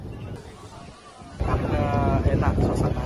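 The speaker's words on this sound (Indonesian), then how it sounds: "Dan anginnya pun segar, angin dari laut." Sea breeze blowing at a coastal spot at sunset, a steady broadband rush of wind buffeting the microphone that swells louder partway through, with voices talking beneath it.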